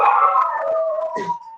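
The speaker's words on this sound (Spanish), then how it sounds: "empiezan mis perritos a macanear." Pet dogs howl loudly and close by in a long, wavering chorus, the pitch sliding down, with a brief yip near the end.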